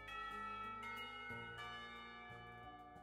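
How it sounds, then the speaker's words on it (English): School bells ring in the visual novel game Katawa Shoujo, with a few soft, resonant chimes whose tones overlap and linger, faint and alone. "Somewhere the school bells ring the last call of the day."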